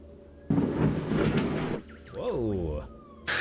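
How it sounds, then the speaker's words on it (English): A thunderstorm sound effect plays during a Pathfinder 2e tabletop game session: a loud, rumbling burst of thunder swells and holds for over a second, then people react with voices and laughter. "The storm rolls in."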